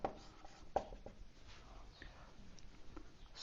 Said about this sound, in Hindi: तो लिख देंगे नोट